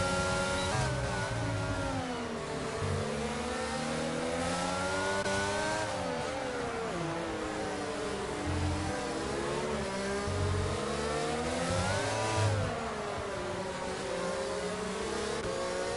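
Formula 1 race car engines in the video game F1 22 at the Mexican Grand Prix, a continuous high-pitched whine that rises and falls through gear changes as cars slipstream toward turn one, steady and loud with no talk.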